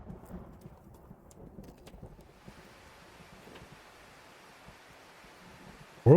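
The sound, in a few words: rain and thunder in a horror visual novel video game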